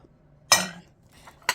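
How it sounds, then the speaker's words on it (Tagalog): Plates salvaged from a dumpster clink and knock together in a few sharp, close ceramic impacts, separated by near silence. "mga plato"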